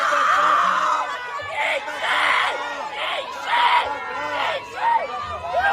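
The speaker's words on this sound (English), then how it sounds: "Pro-abortion protesters scream and shout uncontrollably at the protest outside the Capitol in Phoenix." Crowd of pro-abortion protesters outside the Capitol in Phoenix screaming and shouting over one another, loud and close, with voices surging in repeated waves.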